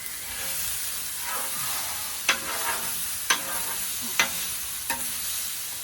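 Onions and garlic fry in the Cajun style on a hot sheet-metal cooking surface, giving a steady close sizzle broken by a few sharp scraping stirs.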